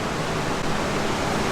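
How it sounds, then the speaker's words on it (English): A Cadillac Escalade pulls in, making a steady, loud, broadband hiss that sounds like pouring rain and holds without a break. "Oh, it's the Escalade pulling in."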